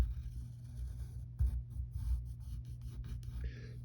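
Pencil or marker drawing a cartoon body outline on paper, a faint scratchy stroke sound in short intermittent bursts close to the microphone over a low background hum.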